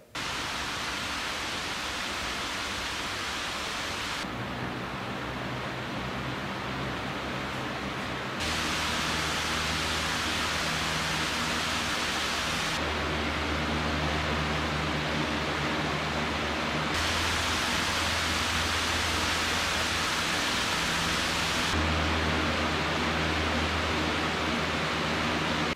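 Cooling fans, one toroidal and one conventional, run in alternating stretches of steady broadband airflow hiss with a low motor hum. Each block lasts about four seconds and all are loud and close, with no talk.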